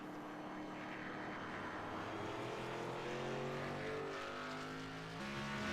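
Race car on board heading down a backstretch, a steady loud engine drone with rising and falling pitch that shifts near the end.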